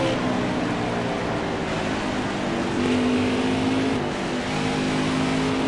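Camping World Truck Series trucks at Bristol Motor Speedway roar steadily as the field takes the green flag, a loud sustained engine drone with shifting pitch and no voices.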